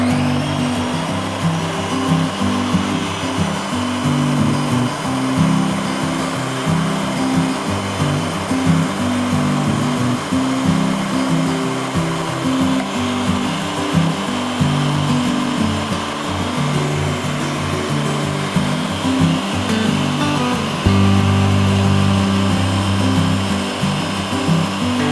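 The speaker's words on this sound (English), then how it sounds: "So let's make this into a puree." A blender purees canned chickpeas with their liquid for homemade hummus, a steady whirring motor running continuously and loudly, with a slight change in pitch near the end.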